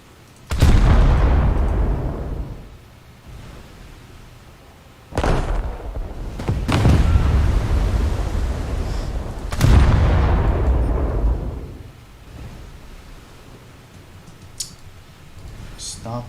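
Battleship guns fire in War Thunder, three heavy booming salvos spread out with long rumbling decays, loud and close, with a faint click near the end.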